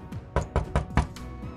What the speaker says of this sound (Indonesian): Petugas Liu pun mengetuk pintu.